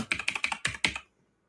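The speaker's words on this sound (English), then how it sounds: "Why am I typing this?" A computer keyboard is typed on at close range, with about six quick, crisp keystroke clusters in an uneven rhythm, followed by silence.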